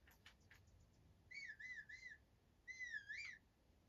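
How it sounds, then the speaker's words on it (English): A player character in a Zelda game whistles two short, bright melodic phrases in a row, fairly faint and clear, with no one talking. "Why can I whistle?"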